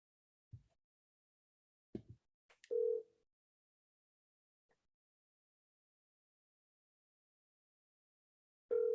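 A phone call is placed during a tournament, with sparse faint clicks and taps, then a short electronic tone, silence, and another steady tone starting at the end.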